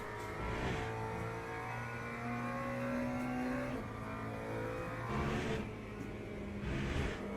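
McLaren race car engine in the Le Mans Ultimate sim racing game, revving and shifting through gears with rising and falling pitch, loud and continuous.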